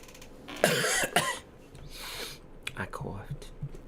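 A single person coughs twice in quick succession, close and fairly loud, followed by softer breathy throat sounds and a few faint clicks in a quiet room.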